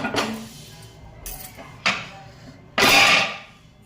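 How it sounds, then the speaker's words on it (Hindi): Dishes, pots and steel utensils being washed at home, with scattered clanks and clinks of metal and a splash-like burst, close and intermittent. "बर्तन वर्तन धोऊँगी"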